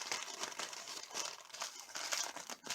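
A paper coffee filter folded a second time while preparing for silver refining crackles and crinkles steadily up close in a run of dry, papery bursts.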